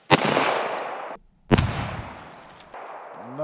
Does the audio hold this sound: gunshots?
yes